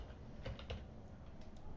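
Faint, close computer keyboard typing: a short cluster of three or four key clicks followed by a couple of softer taps, no voices.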